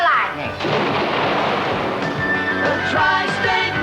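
A thunder sound effect in a tire advertisement gives a loud, close crack and then a sustained rolling rumble that fills the whole few seconds.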